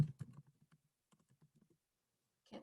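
Several soft, scattered keystrokes on a computer keyboard tap out in short bursts, fairly close and quiet, with a louder rustle at the end and no talking.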